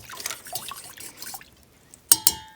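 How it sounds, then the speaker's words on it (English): A sweetened drink poured over ice in a glass: faint trickling and sloshing, then two sharp, bright clinks of ice against glass near the end, close and quiet, with no voices. "pour some of this over ice"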